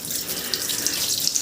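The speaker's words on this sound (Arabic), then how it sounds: "انا مليت الكروانة اللي بيقولوا عليها ديت، مليتها مية" Tap water pours steadily into a laundry basin, a close, continuous splashing hiss with no talking over it.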